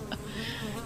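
Buzzing of a ghost honey bee, a story sound effect: a close, continuous insect drone with a brief louder flicker near the start.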